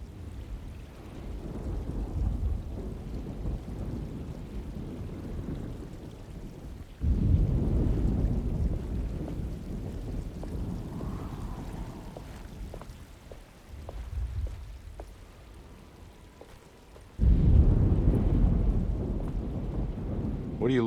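Storm ambience from the video game Alone in the Dark: a steady low rumble of rain and wind with heavier thunder-like swells near the start, middle and end, and no talking.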